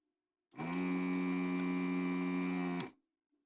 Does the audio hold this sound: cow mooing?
yes